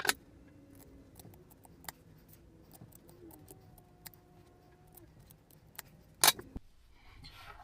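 Scissors snip through fabric for a beginner-sewn superhero bucket hat, a quiet run of small close clicks and cuts with one sharper burst of crisp snipping near the end.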